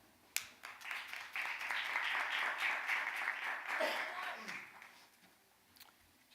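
An audience at a school board meeting applauds to welcome a new member, scattered claps swelling into a few seconds of steady applause, then tapering off.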